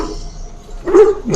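A hound in the fantasy game Dragon Age: Origins gives two short, loud barks close up after a quiet moment.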